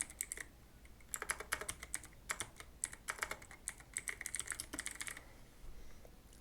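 Rapid typing on a computer keyboard, close and clear, with bursts of quick key clicks that pause briefly before continuing, then fall quiet near the end.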